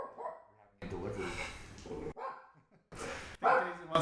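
Dogs barking in loud, close bursts, a sustained run of yapping followed by a second burst after a brief pause, with voices talking faintly around them.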